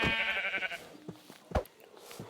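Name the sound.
sheep bleating, from video game Minecraft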